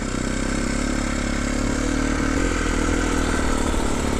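A 2021 Sherco SCF 300 Factory Edition trials motorcycle engine runs steadily up close, a continuous mechanical drone with light clatter and small swells in revs, with no talking.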